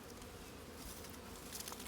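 Honey bees buzzing at an open hive, a dense, steady drone of many wings held close and continuous throughout, with no voices.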